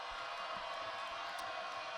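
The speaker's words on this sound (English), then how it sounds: "the crowd's starting to get a little noisy in here" A basketball crowd and student section at a boys' high school game make a steady, fairly loud murmur with faint scattered shouts, with no clear voice standing out.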